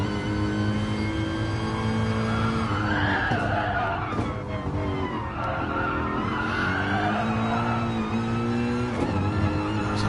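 A front-heavy AMG race car in GT Sport skids with a long, loud tire squeal that rises and falls in waves over a constant roaring engine.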